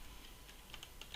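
Quiet, rapid keystrokes on a German computer keyboard during coding, a run of soft, irregular clicks ending in a slightly louder burst.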